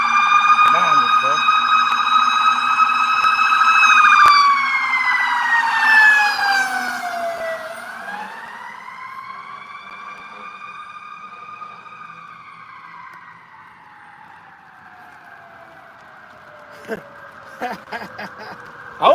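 A fire truck passes on a street with its siren wailing loudly, the tone sweeping down and fading as it moves away, followed by a few sharp clicks and knocks.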